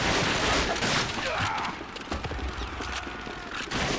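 Gunfire in the video game Call of Duty: Finest Hour, loud bursts of rapid shots and battle noise, dense at the start and end with a slightly quieter stretch in the middle.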